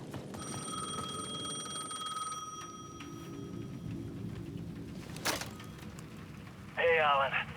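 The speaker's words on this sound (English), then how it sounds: "The payphone at the edge of the plaza was ringing again." A payphone at the edge of a plaza rings repeatedly in the video game Alan Wake 2, steady electronic trills over rainy ambience, followed by a louder sharp burst near the end.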